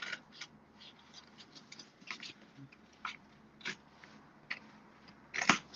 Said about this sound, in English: all I'm going to do is cut on that score line